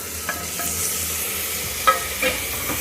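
Two large-cut tomato pieces drop into onions frying in a pan, giving a steady loud sizzle with a few stirring scrapes and clacks and no voices.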